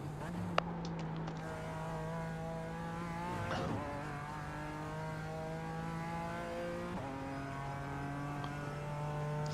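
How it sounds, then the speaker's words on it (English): Porsche GT3 and Porsche Cup race cars on track, engines droning and shifting as cars pass in sequence, with rising and falling pitch sweeps of steady moderate loudness. "So you got a Porsche GT3, a P Cup, and then another GT3."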